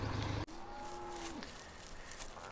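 Cattle lowing in the farming game Farming Simulator 17 on PS4: a single long, drawn-out moo, fairly close and clear, cutting off a brief burst of other game noise, with steady ambient hum after it and no talking.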